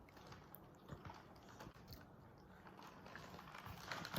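Someone bites into Christmas cookie frosting and chews it. The sounds are soft and close, with faint moist crunches and mouth noises at a low level and no talking.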